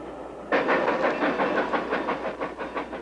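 A train rolls along rails with a steady rhythmic clickety-clack and a faint hiss, rising suddenly and continuing loud and close.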